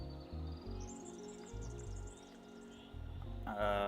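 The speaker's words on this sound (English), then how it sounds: "Perfect timing with the birds." Bird chirps drift through the world of the town-building game ShantyTown, a light, high twittering layered over a low pulsing soundtrack, fairly faint and steady for a few seconds.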